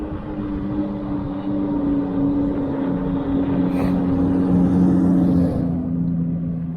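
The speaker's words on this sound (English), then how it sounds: "Why is that Jeep so loud?" A loud Jeep rumbles steadily close by, its deep engine drone swelling slightly as it passes on a street during an electric unicycle ride, with a brief hiss near the end.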